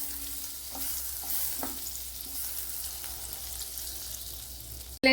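Butter melting in a pan for millet noodles gives a soft, steady sizzle with a few faint taps. It ends in a sudden loud knock.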